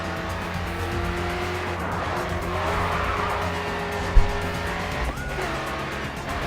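A race car in the racing game GRID 2 drives with a loud, continuous engine note that climbs and shifts, while tires squeal in long skids and there is one brief thump.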